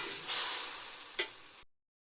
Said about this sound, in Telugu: ఇప్పుడు ఇది బాగా కలుపుకొని ఆయిల్ సపరేట్ అయ్యేంత వరకు వేయించుకోవాలండి